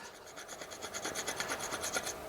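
A screwdriver edge scrapes back and forth across a freshly painted surface with a second coat of Dulux UniPrimer, giving a close, steady rasping scratch in quick repeated strokes with no talking.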